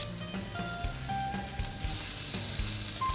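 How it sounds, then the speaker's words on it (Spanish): Squash pieces sizzling and frying in a hot pan, a soft continuous crackle with small pops and stirring scrapes, fairly quiet. "Vamos a asar nuestra calabaza."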